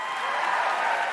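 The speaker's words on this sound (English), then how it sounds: "look at the crowd, look at the applause" Applause from a crowd at a game awards ceremony, a dense steady clatter of many hands clapping, sustained and fairly loud with no break.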